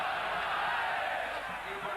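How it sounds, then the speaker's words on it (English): Broad, steady roar of a large football stadium crowd before a Chile versus Argentina match at the 1991 Copa America, a dense wash of distant voices with a commentator talking over it. "The crowd here full of anticipation."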